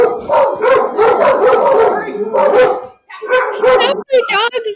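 Several dogs bark and yip in bursts over the first three seconds, then sharper barks and yelps follow, all close and loud amid a casual podcast conversation at home, with people talking over them.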